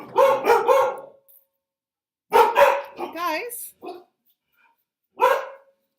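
A dog barks in short bursts, several sharp yaps spaced across a few seconds, mixed with a person talking nearby.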